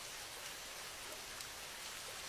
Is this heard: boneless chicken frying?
no